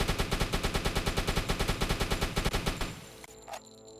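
Rapid automatic gunfire in a U-boat submarine video game hammers out in a steady loud burst of evenly spaced shots for about three seconds, then stops, leaving quieter mechanical clicks and rattles.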